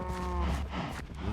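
A cow in a video game lets out one close, loud, low moo that wavers and trails off, followed by a short rustle, with no speech.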